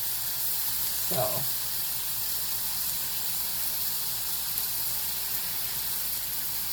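Beef sizzles in a pan, a continuous bright hiss and crackle at steady loudness throughout, with a brief spoken word early on.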